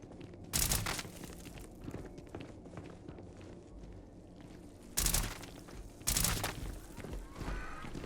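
Weapon fire in the video game Starfield: a few loud, sharp bursts, one early and two close together near the end, over scuffling movement and a steady background din.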